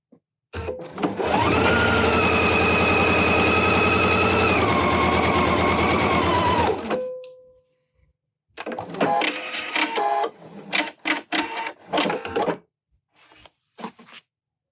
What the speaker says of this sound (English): So let's go ahead and start sewing.